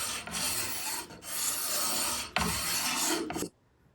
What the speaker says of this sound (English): Just do about 10 to 20 scrapes a time, each side or wherever you need to